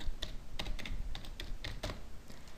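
A password is typed on a computer keyboard: irregular clicking keystrokes, close and clear, in quick uneven bursts with no talking.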